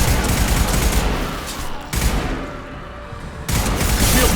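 Sustained gunfire in Mass Effect Legendary Edition, dense loud rapid bursts of automatic shots with short pauses between volleys and a low rumbling undertone.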